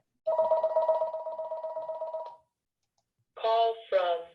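A phone rings with an incoming call: a steady electronic tone lasting about two seconds, then after a pause two shorter bursts, fairly clear and alone.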